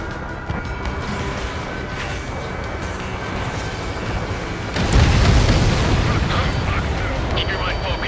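A loud explosion from a destroyed enemy transport in the Ace Combat 7 flight game bursts in about halfway through, a broad rumbling boom over constant jet engine roar that continues afterward.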